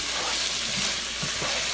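Mutton liver pepper roast with roasted coconut, curry leaf and coriander leaf sizzles in a pan while being stirred, a continuous hiss of frying with soft scraping mix strokes and no voices.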